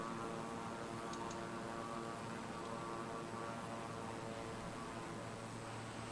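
Steady drone of a trainer airplane's engine in a flight simulator, a constant, even hum with no change in pitch or loudness, heard alone and fairly faint throughout.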